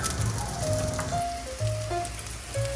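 Fritters bound with egg sizzle as they brown in oil in a pan, a steady crackling patter close by, with a few faint tonal hums over it.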